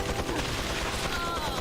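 Gunfire in the video game Resident Evil 4 cracks out in a quick series of sharp bursts, loud and close, over a busy game soundtrack.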